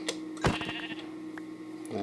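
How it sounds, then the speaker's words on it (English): A sheep in Minecraft gives a short, near, moderately loud bleat over a steady hum of game background sound, followed by a few faint clicks, with no voices. "We found our first sheep."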